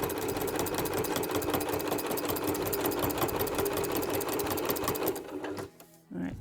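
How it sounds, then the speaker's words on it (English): A sewing machine stitches steadily over the bulky fabric corner of a log cabin mug rug, a fast even mechanical rattle running loud and close for about five seconds before stopping, then a brief clunk. "help the machine stitch over the bulk that is in that corner"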